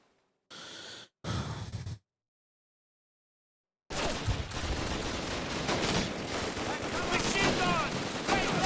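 Rapid bursts of machine gun fire in the World War II shooter Call of Duty: United Offensive, loud and dense, a few short bursts followed by a sustained clattering barrage with other battle noise.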